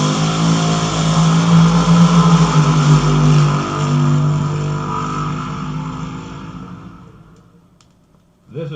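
Drag racing cars from 1964 accelerating at the Hurst Nationals, a loud, steady engine roar holding strong for several seconds, then fading away into the distance before a brief sharp burst at the end.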